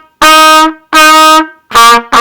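Trumpet sounding a line of repeated F notes, four separate held tones with short gaps, the last ones shorter, played loud and close with no talking.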